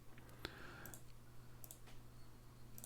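A single crisp mouse click in the mobile strategy game Invasion: Modern Empire, quiet and close, followed by a few faint ticks against a low background hum.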